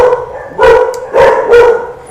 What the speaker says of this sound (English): Sorry, the dog.